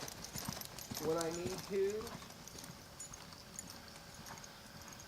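Horse's hooves clip-clop at a steady walk while being ridden outdoors, fairly faint, with a rider talking over them.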